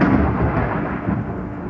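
Thunder rumbling, a loud, deep, continuous roll that fills the whole moment, with rain-like noise around it and no voices.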